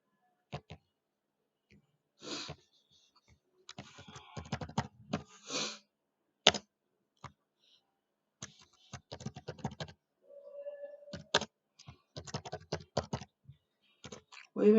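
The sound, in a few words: typing on a computer keyboard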